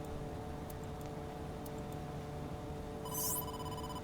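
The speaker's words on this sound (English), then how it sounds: "Oh, Mizuki, you have a call." A phone ring sounds in the video game AI: The Somnium Files 2, with a bright trilling tone beginning near the end over a low ambient hum and a few faint ticks.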